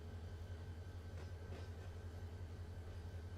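A locomotive in the Run8 Train Simulator game rolls slowly through Norris Yard on the NS AGS South line, giving a steady low engine rumble with faint rail clatter throughout and no talking.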